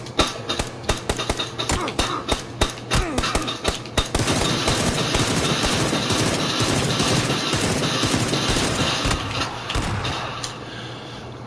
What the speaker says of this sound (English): How the fuck did he shoot me with a shotgun that far away?